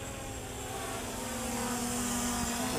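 A small Eachine EX2H quadcopter drone flies nearby, its propellers giving a faint, steady whirring hum that rises slightly in level with no one speaking.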